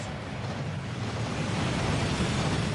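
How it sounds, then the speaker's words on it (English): A waterfall pours inside the Gringotts vault tunnels in the video game Hogwarts Legacy, a dense steady roar of rushing water with deep rumbling weight, swelling slightly and continuing without any speech. "That waterfall washes away all enchantments."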